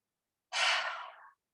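One heavy throaty exhale during a yoga class, a single breathy rush of air that starts abruptly, stays close and clear, then tapers off in silence.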